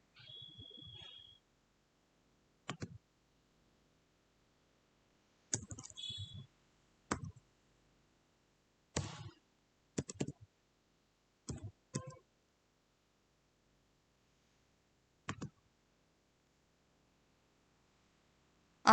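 Sparse, isolated mouse clicks in circuit simulation software, arriving singly and in short pairs against near silence, sharp and close.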